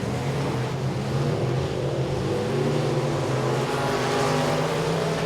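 Modified race cars at Boothill Speedway, a dirt track, give a loud, continuous engine roar as the pack runs at full throttle, steady and dense with no break.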